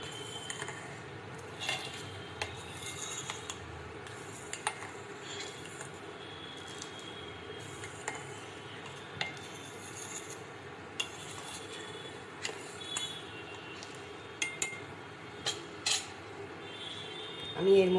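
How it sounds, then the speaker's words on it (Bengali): A spoon stirs custard milk in a pot on the stove, giving soft repeated scraping and light metallic clinks against the pot over a steady low background. "কাস্টার্ড দিয়ে তো নাড়তে হয় বন্ধুরা, নাহলে তলে লেগে যাবে।"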